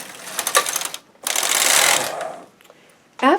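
A standard gauge sock knitting machine knits rib stitches in loud mechanical bursts of clattering and ratcheting, separated by short pauses, with a final sharp clack.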